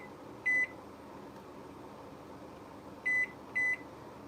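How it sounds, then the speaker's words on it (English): Kitchen timer in a home kitchen gives three short electronic beeps as its buttons are set, one near the start and two close together toward the end, over quiet room hum. "Kitchen timer."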